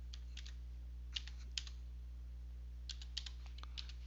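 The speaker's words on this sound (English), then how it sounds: "type the word philosophers" Short bursts of keystrokes on a computer keyboard while a word is entered into a LibreOffice agenda form, clicks grouped in quick clusters separated by pauses, close and fairly faint over a steady low hum.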